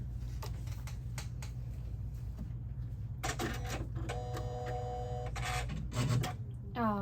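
A Janome S9 embroidery machine powers up with a series of clicks and mechanical ticks, then a whirring motor run with a tonal hum, over a constant low electrical drone.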